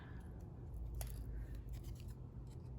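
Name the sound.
scissors fussy cutting a paper ghost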